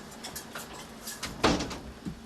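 A door shuts in a domestic room with a single firm thud, fairly close and moderately loud, followed by quieter room noise.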